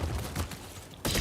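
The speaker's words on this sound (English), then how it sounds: "Watch those wrist rockets." A battle droid in Star Wars Jedi Survivor fires wrist rockets, a burst of sharp, loud blasts followed by a short lull and another heavy blast near the end.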